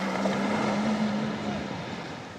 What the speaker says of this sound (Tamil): அந்த போட் வந்து போகுது ஏற்றிக்கொண்டு போகிறான்